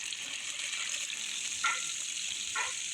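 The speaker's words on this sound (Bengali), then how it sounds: "এখন আমি প্রথমে মাংসগুলো হালকা ভেজে নিব তেলে" Chicken pieces frying lightly in oil give a steady, bright sizzle that hisses continuously, with a couple of brief clinks or stirs near the end.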